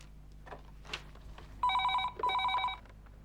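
A telephone rings in two bursts of bright electronic trilling, close and clear, after a moment of quiet rustling in a still room.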